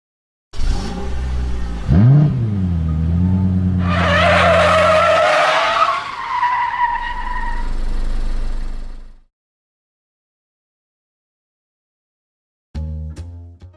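An F1 race car sound effect: a near, loud engine revs up and then a long tire screech and skid sweeps through, the roar trailing off into silence before a brief burst of engine noise at the end.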